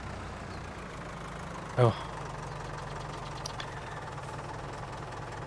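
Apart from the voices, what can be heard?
tractor engine left running in Farming Simulator 22 video game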